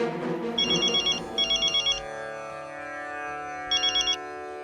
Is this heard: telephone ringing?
yes